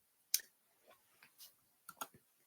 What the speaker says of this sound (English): Here I'm typing Gini Index 2022.